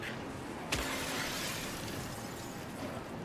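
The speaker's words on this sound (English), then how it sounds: "Hey, I heard somebody break glass" Glass shatters in the survival horror game Silent Hill, a single sharp crash bursting out over a dense, steady wash of in-game ambient noise.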